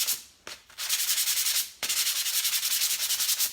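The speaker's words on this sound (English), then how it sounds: "and sand it with another piece to get some of the grit off" One piece of sandpaper scrubbed against another to knock off grit, close and loud in steady back-and-forth strokes, broken by a short pause before the rhythmic rasping resumes without talk.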